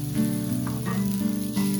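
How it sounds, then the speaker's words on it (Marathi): A continuous loud sizzle of thalipith flatbread made from multigrain flour cooking on a hot pan, with a low steady hum underneath. "पॅन चांगला तापला आहे तर थालीपीठ भाजायला टाकू"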